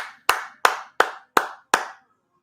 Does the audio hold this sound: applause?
yes